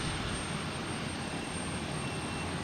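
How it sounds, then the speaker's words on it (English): A steady, loud roar of an airliner at Boston Logan Airport, broad and unbroken throughout with no voices. "But we have a plane"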